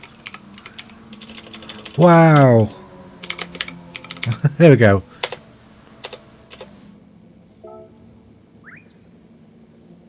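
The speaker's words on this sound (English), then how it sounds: "This keyboard is awful." Computer keyboard keystrokes tapped in quick irregular bursts, close and crisp, broken by a few short spoken exclamations in between, then fading to sparse clicks.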